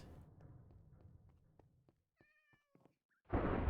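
A ginger cat in Minecraft gives a few short, faint game meows after a fading low rumble, followed by a sudden loud burst of noise at the end.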